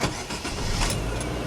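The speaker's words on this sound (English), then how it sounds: "and start the engine" A car engine turning over and catching during a driving lesson, with a steady mid-level rumble settling in close by and no voices.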